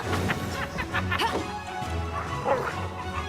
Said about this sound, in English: we've just had our summoned dog enter the fray